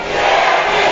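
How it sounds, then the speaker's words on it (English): A wrestling crowd roars and chants in a large arena, a dense, loud, continuous wash of many voices filling the whole second with no break. "Wow, do you hear the crowd now?"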